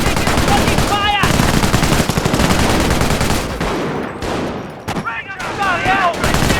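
Dense battlefield gunfire in Company of Heroes, World War II combat against German infantry, with rapid machine-gun bursts and rifle shots crackling loudly and continuously, brief whistling ricochet-like tones and a voice calling out amid the din.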